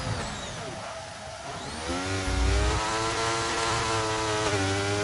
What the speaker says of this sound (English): We've got the engine glitch.